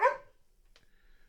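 A single short dog bark up close at the start, followed by a faint thin whine or squeak and quiet background.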